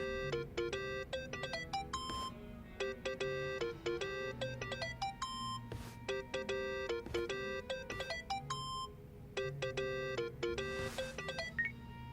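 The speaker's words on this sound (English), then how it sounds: "Think that's your phone, man." A phone in the Yakuza: Like A Dragon video game plays a ringtone melody of short, bright electronic tones. They repeat in quick rhythmic bursts over a low, quiet backdrop.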